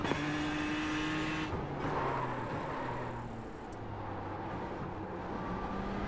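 A GTE race car in iRacing practice for the 24 Hours of Daytona drones past on the left, its engine note shifting pitch as it goes by, loud and continuous with no talk.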